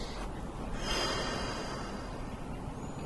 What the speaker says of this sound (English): you inhale on the open, exhale on the close, on the press